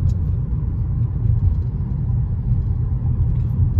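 A car drives on the road with a steady low engine rumble and tire drone heard from inside the cabin, loud and even, with no speech.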